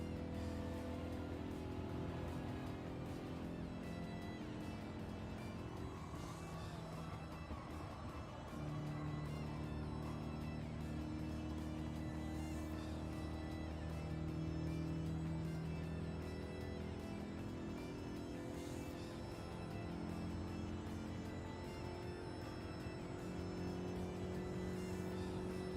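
Race cars in an online ranked race in the video game Gran Turismo 7, a steady loud engine drone with shifting tones throughout, no talk.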